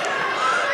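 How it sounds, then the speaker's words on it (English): A wrestling crowd at a live show cheers loudly for Eddie Browning, with many children's voices shouting together in a dense, steady roar for the whole moment. "the crowd is going crazy for Eddie Browning"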